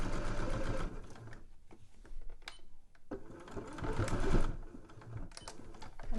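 Sewing machine running in steady bursts as it stitches along the edge of polka-dot cotton fabric with white thread to close a gap in a Christmas stocking, close and fairly loud, with brief pauses between runs.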